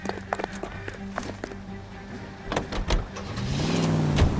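A car in L.A. Noire starts up and pulls away: doors and clunks thump first, then the engine swells and revs louder toward the end, with faint voices in the background.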